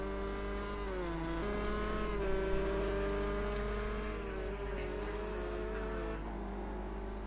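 A race car in a sim racing game at Bathurst spins, the engine droning loud and steady with pitch sliding up and down as revs rise and fall, no talking over it.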